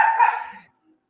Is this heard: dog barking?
yes